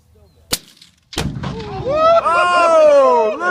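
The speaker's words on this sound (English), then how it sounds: "You realize you're shooting at the orange target, right?" Two sharp rifle shots close by, the second striking an orange Tannerite target, followed by a deep sustained boom and rolling rumble, with excited voices rising over it.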